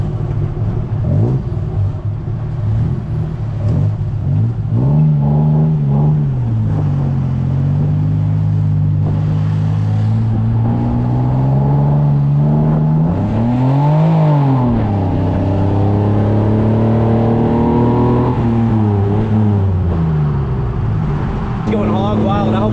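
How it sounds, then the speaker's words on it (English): A car engine in Bangkok revs hard and roars at speed, its pitch rising and falling through repeated accelerations, loud and close, with voices talking over the rumble. "Burning rubber out here."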